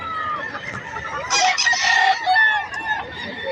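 Chickens and roosters at a crowded pet market in Bocaue, with a loud rooster crow rising over clucking hens, close and busy with faint crowd murmur behind.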